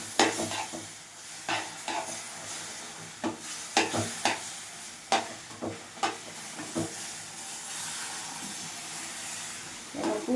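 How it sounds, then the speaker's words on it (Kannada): Hot milk being stirred into roasted semolina for kesari bath, a steady hiss and sizzle broken by repeated scraping stirs against the pan, close and fairly loud with no talk. "ಸ್ವಲ್ಪನೇ ಹಾಲು ಹಾಕಿ ಮಿಕ್ಸ್ ಮಾಡ್ಕೊತಿದ್ದೀನಿ"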